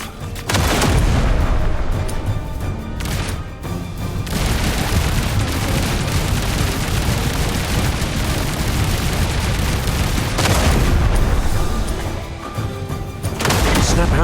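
Sustained gunfire and booming blasts from combat in the action game Duet Night Abyss, loud and dense throughout with heavy low rumble, brief lulls near the start and around the tenth second.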